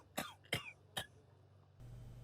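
Three close, sharp coughs come from an ill character in the game Sherlock Holmes: The Devil's Daughter, evenly spaced about half a second apart, followed by a low ambient hum.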